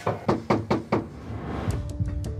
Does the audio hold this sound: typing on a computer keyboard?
no